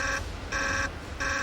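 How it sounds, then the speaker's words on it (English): Alarms going off in the Chernobyl nuclear plant control room: a loud electronic tone pulsing in steady on-off beeps, three clear cycles with a hum beneath. "The water shortage continues to set off alarms"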